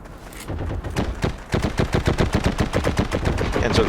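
Bursts of MG34 machine-gun fire from a World War II shooter game rattle out in rapid, evenly spaced shots. A short opening burst is followed by a longer sustained stream, loud and close.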